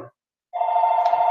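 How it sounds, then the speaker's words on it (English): A telephone rings loud and steady, one long electronic trill filling the room after a brief moment of silence, with no talk over it. "forgive the little phone call"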